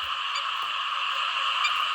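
Frogs call together in a rain-flooded rice paddy at night, making an unbroken, loud, buzzing chorus, with occasional brighter individual croaks rising above it early and near the end.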